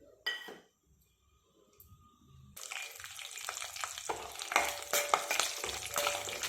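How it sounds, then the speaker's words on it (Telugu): Cashews crackle and sizzle in hot oil after a few clinks of utensils and a quiet moment, then a dense, continuous frying hiss with scattered pops and stirring clatter fills the rest. "ఇప్పుడు జీడిపప్పు వేసుకొని వేపేసుకుందాము"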